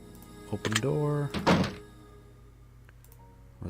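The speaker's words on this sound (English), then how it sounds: "Open door." A door opens in a video game with a brief thunk and sliding clatter, set among a speaking voice.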